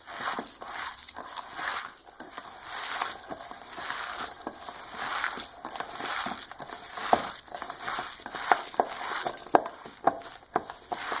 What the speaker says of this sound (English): Make sure that it's all mixed in good.